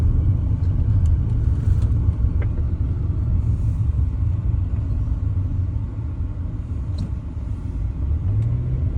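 A car engine runs steadily while driving, a loud continuous low rumble with road noise and slight shifts in pitch, no voices.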